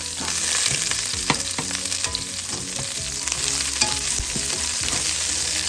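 Chopped fresh garlic and sliced onion fry in oil for pork pinakbet, a dense continuous sizzle with crackling and rhythmic stirring clatters from a utensil in the pan, loud and close, no speech.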